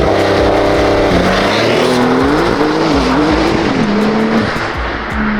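Porsche Turbo S accelerating hard from a standstill, its engine note climbing through the gears in a loud, near roar with some tire noise, and no voices over it.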